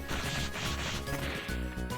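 In Children of Mana, a barrel is smashed with a few loud whacking, crunching blows that cut through the ongoing game music, all heard up close with nobody speaking.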